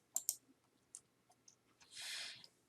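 Two quick, faint mouse clicks on an on-screen Find Journals button, close together near the start, followed by soft scattered ticks and a brief hiss in a quiet room.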